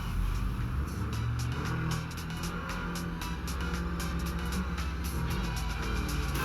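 Car engine in the Neverness to Everness video game, a steady loud motor drone with shifting pitch and repeated sharp clicking or impact noises over it, no talk.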